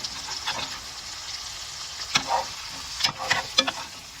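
A big steak frying in butter in a pan over lowered heat, steady sizzle with a few sharp scrapes and clinks of a utensil stirring, close by, no voices.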